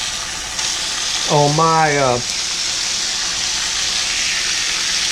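Bacon sizzles and fries on a stove, a steady broadband crackle throughout, with a brief spoken voice over it partway through.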